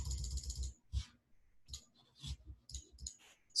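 Sharp mouse clicks on an add 1 button, several separate taps in an irregular rhythm with short gaps between them, close and fairly quiet, no talking.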